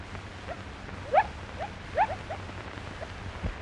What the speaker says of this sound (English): Unusual and rare baby bat-eared foxes run for their dugouts, where they huddle close together and cry plaintively in fear for their lives.